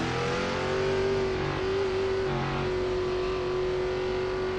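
Several NASCAR stock cars in the iRacing sim, 2003 season, roll into the pits together, a steady engine drone with rising and falling revs and no talk over it.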